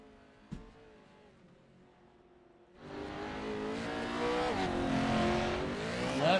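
Off-road truck engines race in a video game: after a quiet start with one sharp tap, a loud, steady engine roar swells and holds, with rising revs near the end.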